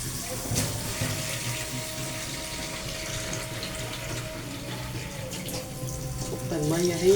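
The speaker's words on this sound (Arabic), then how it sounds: "نحط الميه اهيت" Water poured into a pot of rice on the stove for an Egyptian fish-and-rice dish, a steady running, splashing stream lasting throughout with no talk.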